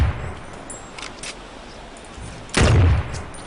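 Sniper rifle fire in the video game Firefall: two short, light shots land in quick succession, then a heavier, louder blast follows a moment later over quiet background noise.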